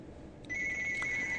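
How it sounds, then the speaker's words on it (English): A telephone rings in the background of a podcast recording, a thin steady electronic tone that starts partway through, faint and slightly distant, with no speech over it. "So, the phone's ringing."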